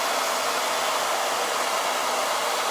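A dryer blows a loud, steady rush of air over freshly painted nails, an unbroken hiss from start to finish with no talking.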